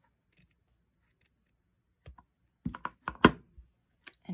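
Scissors snip through dollar-store craft material for a pumpkin garland, a sparse run of quiet crisp cuts, then a closer cluster of sharper snips toward the end.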